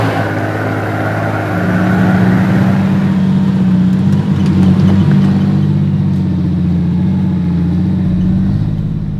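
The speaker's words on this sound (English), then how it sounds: "We're driving up a steep hill." A turbocharged Barra-engined Toyota Land Cruiser climbs a steep, fairly smooth off-road hill in first gear low range, its engine droning steadily and loudly under load throughout, with a rising tone partway through.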